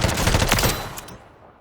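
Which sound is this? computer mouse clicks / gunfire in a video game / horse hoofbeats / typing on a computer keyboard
gunfire in a video game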